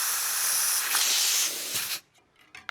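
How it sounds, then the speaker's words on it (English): An air compressor blasts a steady, loud hiss of air into a tubeless bicycle tire valve for about two seconds, then cuts off, leaving brief faint hisses and a small click. "I'm going to put it onto the valve and shoot some air in"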